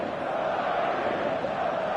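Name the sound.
stadium crowd noise in the eFootball video game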